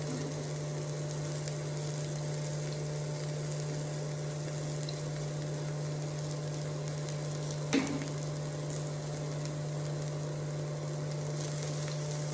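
Steady, close sizzling and crackle of food roasting in a hot pan for a quinoa burrito bowl, continuous and even throughout with one brief clatter partway, no voices.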